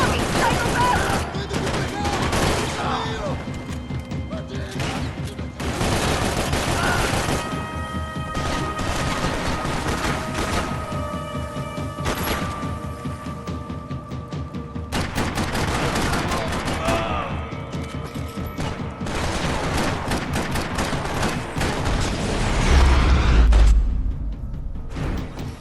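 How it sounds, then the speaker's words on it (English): Dense video-game gunfire from Max Payne 3: rapid bursts of shots and crashes nearly nonstop for the whole stretch, loud and close, with a voice speaking now and then under the firing. "You're shooting right at me!"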